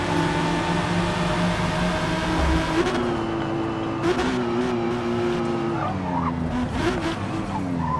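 A Toyota Supra RZ 98 in a racing video game brakes hard, its engine drone steady and loud, with tire squeal and skidding layered over it for several seconds.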